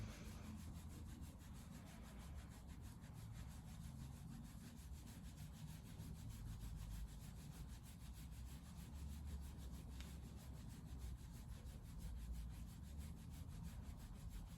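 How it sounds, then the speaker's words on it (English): Hands vigorously rubbing the lower back during a qigong exercise, a steady close brushing friction with even rhythm that continues faintly and unbroken throughout. "we're just going to vigorously rub the kidney spaces here"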